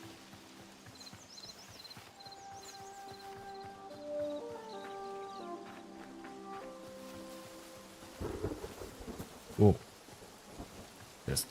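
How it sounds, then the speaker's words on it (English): Thunder in the video game Hytale, a deep rumbling burst rolling in late beneath layered in-game music tones, with a single short spoken exclamation. "there's thunder."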